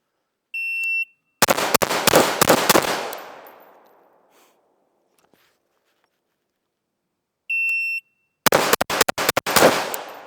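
A shot timer beeps twice, each time followed by a fast string of close, loud rifle shots at 10 yards, fired in quick even splits during recoil-control practice, with a fading echo between strings.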